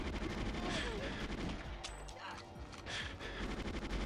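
Gunfire in the GoldenEye video game, rapid bursts of shots with sharp cracks over a gritty background, fairly quiet overall, with a voice speaking over the action.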